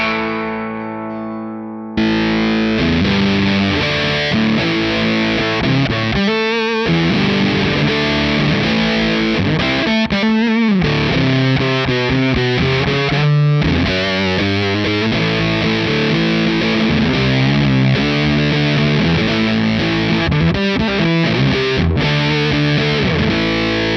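Electric guitar played through a ThorpyFX Hanami Fuzz pedal, with thick, saturated fuzzy chords and riffs sustained loud and full, opening with a short cleaner passage before the heavy distortion kicks in.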